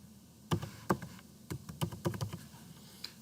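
Close keystrokes on a computer keyboard entering a postal code into a form, an irregular run of crisp clicks in short bursts with brief pauses, no speech.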